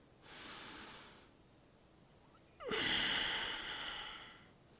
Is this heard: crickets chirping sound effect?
no